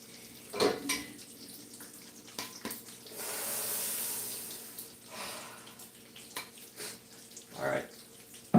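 Dishes, pots and cutlery washed in a kitchen sink: clinks and clatters of plates and silverware, a running tap burst in the middle, moderately close.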